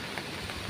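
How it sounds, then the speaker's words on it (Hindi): Heavy rain pours in a dense, steady hiss with a constant wash of drops and no pauses. "देखंतु केमिति चलीची ए वर्षार तांडव"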